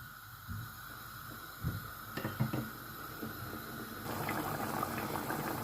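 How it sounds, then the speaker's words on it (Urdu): Water heating in a cooking pot for chicken pulao, starting with quiet bubbling and a few soft pops, then swelling into a steadier, louder hiss of boiling. "پانی پکنا شروع ہو گیا ہے"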